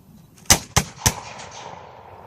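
Infantry muskets fire by file in a battlefield demonstration at Manassas: three sharp, loud reports in quick succession, each followed by a rolling echo that fades out in the open air.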